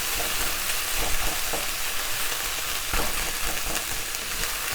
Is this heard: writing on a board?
no